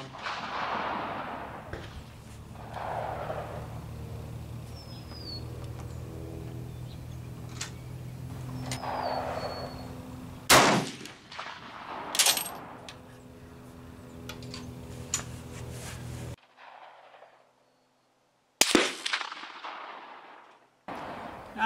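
Rifle shots with GP11 ammunition ring out at an outdoor range, several sharp loud cracks spaced seconds apart, with someone talking between them.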